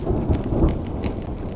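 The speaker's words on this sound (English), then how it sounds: "When will this rain ever stop?" Steady rain pours in the video game Honkai Star Rail while low thunder rumbles through, a continuous dense wash of downpour with no voices.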